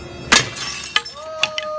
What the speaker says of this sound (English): Break the glass.